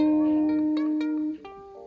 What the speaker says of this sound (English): right here on the 4th fret of the B string